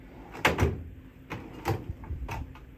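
A hospital supply drawer holding scalpels and airways slides and bumps shut and open, with a few separate wooden-sounding knocks and clatters spaced out at close range in a quiet room.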